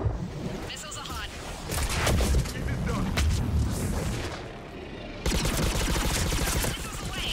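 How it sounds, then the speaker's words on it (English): Missiles launching and exploding in battle in Mass Effect 3 on Thessia, a series of heavy booms and blasts rolling one after another, loud and close, mixed with voices talking. "Missiles are hot."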